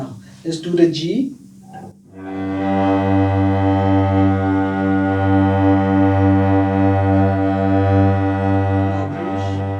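After a moment of brief speech, a long bow stroke draws out a sustained low note on a cello's G string, a steady, full, resonant tone heard close and alone for several seconds.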